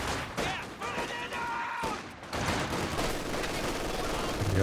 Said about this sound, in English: MG42 kicking in now, getting some nice suppression going